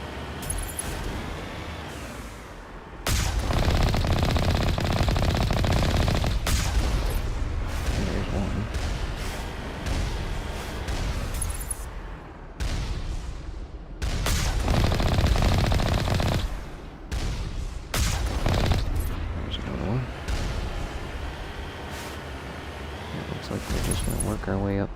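Turret gunfire in the video game Mass Effect 1 on a mountainside: loud, sustained rapid-fire bursts broken by short pauses, over a steady wind-like rumble, with a voice talking at times.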